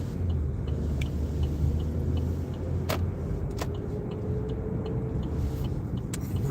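Cars rolling past on a road nearby, a continuous low rumble of engines and tires with a couple of brief sharper clicks, no voices.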